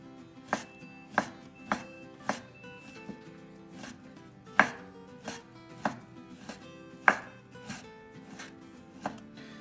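A knife slices a chuck eye steak into thin pieces on a cutting board, about a dozen crisp, close chopping knocks at an uneven rhythm, with no voices.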